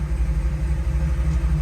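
A 1979 Jeep Renegade rolling along the road, its engine giving a steady, loud low rumble with a gently pulsing throb and no voices.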